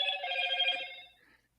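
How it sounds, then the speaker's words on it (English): A phone rings with a bright, trilling electronic tone that holds steady for about a second and then fades out, fairly faint and with nothing else over it. "Whose phone is ringing?"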